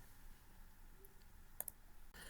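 Quiet mouse clicks in a room with a low hum: a faint tick, then a close, sharp double click, followed by a soft shift in background noise.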